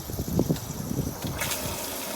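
Water gurgles and gushes steadily as a recirculating pump pushes it back into a boat's live well, a close, continuous liquid wash with brief splashy surges and no talking.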